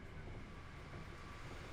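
Green train passing in the game American Truck Simulator 2: a faint, steady rumble of rolling rail cars, brief and continuous, with no speech.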